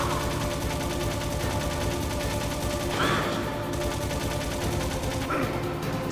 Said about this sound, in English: I'm shooting him.